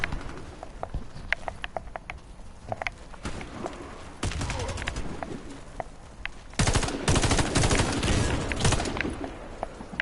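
Rapid bursts of video game gunfire crackle in clusters, sparse and scattered at first, then growing dense and continuous toward the end, with faint talk mixed underneath.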